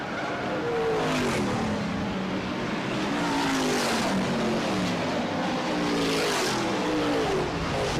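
BriSCA F1 stock cars race on the Baarlo long track in 1998, their engines roaring and revving continuously as several cars sweep past in rising and falling waves of noise.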